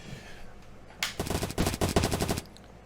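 Rapid automatic gunfire from a first-person shooter match in the Zero Cup ELO series, a loud burst of tightly spaced shots lasting about a second and a half after a brief quiet lead-in, with no voices over it.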